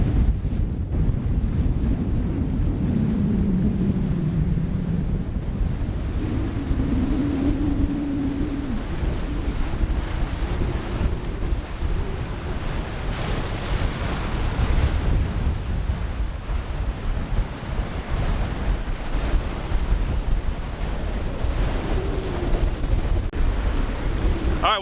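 Gulf Coast shoreline with ocean waves rolling in under strong, constant wind buffeting the microphone, a loud roaring wash with no break.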